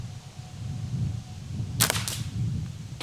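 A high-powered Chinese slingshot rifle firing a 6mm ball: two sharp, short snaps about a quarter second apart over a low, steady background rumble.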